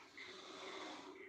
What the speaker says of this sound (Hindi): मैं कह रही अंकल खर्राटे ले रहे